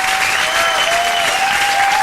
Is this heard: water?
no